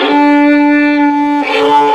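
A beginner violinist bows the D string roughly, giving a sustained, buzzy open tone that turns harsher and scratchier about two-thirds through, played close and loud with no talking.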